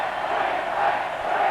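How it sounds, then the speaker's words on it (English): A stadium crowd at Lang Park in Queensland cheers wildly, a dense, steady roar that fills the whole moment at a constant loudness with no breaks. "The crowd have gone absolutely berserk here at Lang Park"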